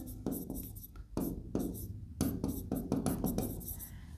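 Pen writing by hand on paper while an accounts format is set out, with short bursts of scratchy strokes broken by brief pauses, close and fairly quiet, and no voices.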